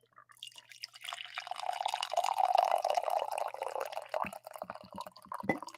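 Coffee pours into an XFL mug in a steady liquid stream lasting several seconds, rising as the mug fills, then trailing off into a few drips, close and alone with no talk.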